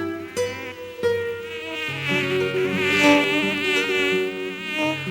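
Mosquitoes whining in a high, wavering drone that rises and falls continuously, close and loud, with no voices present.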